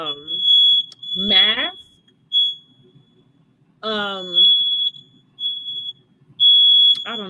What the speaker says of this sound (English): they got my alarm going off